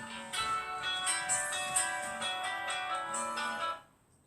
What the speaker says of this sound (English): My phone is going off